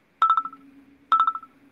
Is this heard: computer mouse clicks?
no